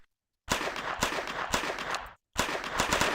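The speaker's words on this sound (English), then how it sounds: "You get single and full auto firing." A Walther MPL airsoft submachine gun made by WOG fires a few single shots and then rapid full-auto bursts, two close and loud strings of sharp cracks separated by a short silence.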